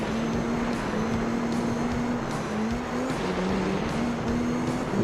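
A race car engine held at full throttle in Gran Turismo 3 on a PS2, a steady loud droning whine with slight pitch shifts as the revs change, continuous and alone.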